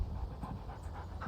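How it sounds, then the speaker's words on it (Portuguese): A dog caught in a trap in the video game Alan Wake Remastered, panting in rapid, steady breaths, close and fairly faint over a low rumbling background. "O cachorro caiu na armadilha."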